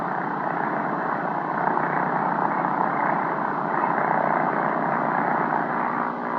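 A training aircraft taxis to a ground check position, its engine and propeller holding a steady, loud, continuous drone with no voices.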